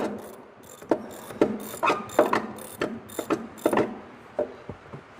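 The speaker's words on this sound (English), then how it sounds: "Now I'm ratcheting" A hand ratchet tightens the starter cable on a Yamaha Kodiak 700 ATV with a series of sharp, close pawl clicks in uneven bursts over a low background rumble.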